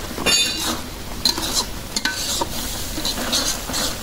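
Ground spice paste with ginger and garlic fries with onions in hot oil, a steady close sizzle broken by scraping stirs and light clinks of a spoon against the pan.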